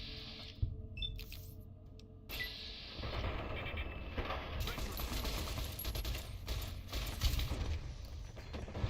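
Sustained automatic gunfire from enemies in Fallout: New Vegas, dense and loud bursts rattling continuously over several seconds, with heavier volleys after a brief opening.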